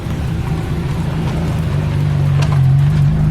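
A Ferrari F50 engine grows louder as it drives past, a rumbling low drone that swells toward the end; no one speaks over it.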